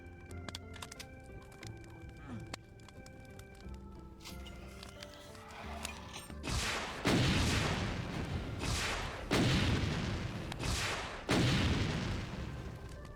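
Rockets in Doom with the Brutal mod burst in several loud, booming explosions in the later half, each a broad crashing hit with a decaying tail, following quieter game music and effects.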